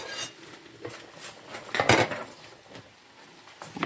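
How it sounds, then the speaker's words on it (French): Spoon scraping and clinking inside a cooking pot as meat is stirred for an olive tagine, with a few scattered scrapes and one louder clattering burst in the middle, close and otherwise quiet. "Aussi, notre viande qui est en train de cuire là, il faut de temps en temps aussi la remuer."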